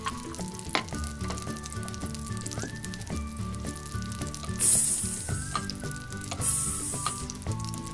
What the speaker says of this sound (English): Can you hear that sizzle?